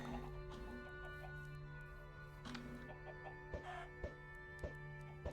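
Chickens cluck softly in Minecraft, with scattered short calls over a steady low background hum and a few faint ticks toward the end.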